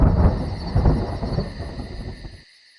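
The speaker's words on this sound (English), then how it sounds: "Thunder and lightning." A loud rolling thunder rumble, with a hiss like rain, opens a staged storm scene, then cuts off abruptly into silence.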